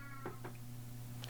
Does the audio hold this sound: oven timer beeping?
no